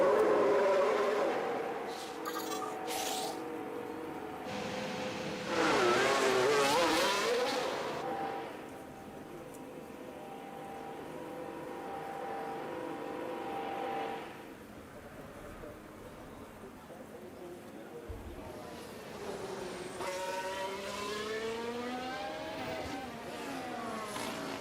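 Formula 1 cars in the F1 Manager 2026 racing game pull out onto the Canada circuit, their high engine whine rising and falling in pitch, with a louder burst of revving near the end.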